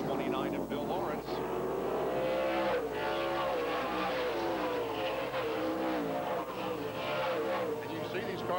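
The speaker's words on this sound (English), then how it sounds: "Cars get up to pretty good speed here at Tucson Raceway Park" Race cars at speed in a 1998 NASCAR Featherlite Southwest Tour event at Tucson Raceway Park, a continuous loud engine roar with rising and falling pitch as cars pass, with commentators talking over it.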